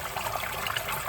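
Water spills steadily over the overflow of a homemade koi pond filter, a close, continuous splashing trickle with bright bubbling detail and no voices.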